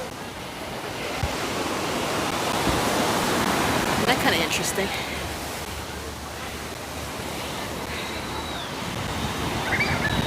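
Ocean surf washing in at Waikiki beach as a broad continuous roar of breaking waves, loud and close, with someone briefly talking over it.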